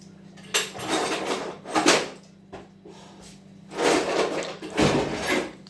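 Kitchen drawers being opened and rummaged through, several separate bursts of sliding wood and clinking utensils rattling, close by and fairly loud with quiet gaps between them.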